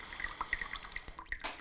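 Wet tencha tea leaves drip into a filter, a few small irregular droplet plinks and light splashes, close and quiet with no voices.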